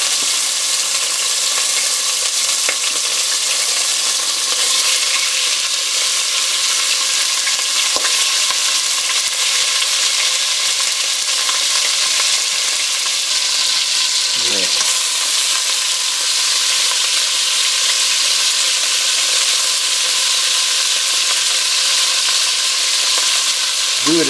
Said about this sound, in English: What we're going to do is brown our meat.